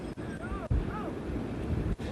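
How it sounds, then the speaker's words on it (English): Strong wind gusts roar and buffet a microphone on a freeway, steady and loud throughout with a brief surge partway, while a reporter covers big rigs struggling in the gale. "a huge gust just came up here"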